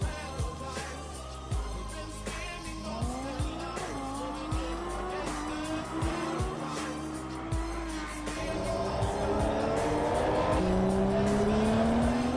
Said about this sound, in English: a bit of street racing in Japan here, between a Supra and a Huracan